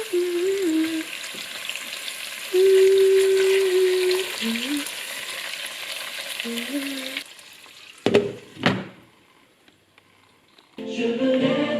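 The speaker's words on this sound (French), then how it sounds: "je vais rajouter quelques épices pour que les gésiers puissent commencer à cuire" Chicken gizzards frying in a pan with spices, a steady sizzle for several seconds with occasional stirring, then a few louder knocks of utensil against the pan before the sizzle returns, with a faint tonal hum running underneath.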